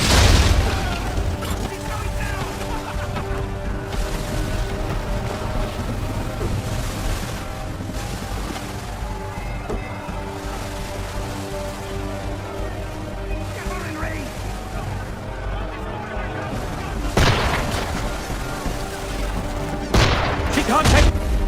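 Gunboat cannon fire in Assassin's Creed III during a naval battle near a vineyard pier, a dense continuous barrage of booms and bursts with loud blasts near the end, mixed with shouting voices and music.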